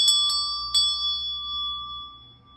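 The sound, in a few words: ringing a sacral chakra bell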